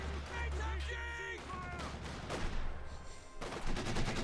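Automatic machine gun bursts from Company of Heroes 2, an OKW versus Soviet multiplayer match, crackle in rapid strings amid other battlefield gunfire and explosions, with a commentator talking over the action throughout.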